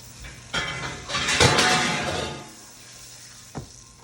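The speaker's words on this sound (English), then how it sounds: "the grease is hot. You can see it popping" Hot grease in a biscuit pan for breakfast gravy, with flour added, sizzling and popping loudly in a broad hiss that swells and fades, ending in a single sharp crackle.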